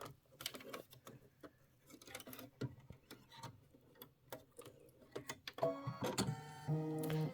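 An embroidery machine runs its placement stitch for a Halloween pumpkins-and-potions project, a fast regular mechanical ticking and whirring that grows louder and steadier near the end, with scattered clicks before it.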